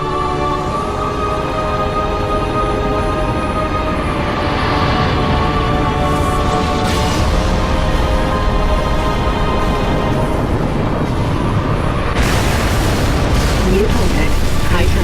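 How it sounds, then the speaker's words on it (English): Heavy MAC rounds from an orbiting frigate firing and exploding in Halo Reach, deep booming blasts rumbling continuously under a dense battle soundscape, with sharper bursts surging near the middle and end and voices mixed in. "Frigate 318 Heavy is inbound, and MAC rounds have been authorized."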